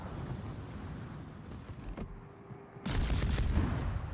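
Weapons fire in a space battle video game: a dense burst of rapid blasts, a brief lull with a faint tone, then a louder barrage of rapid shots.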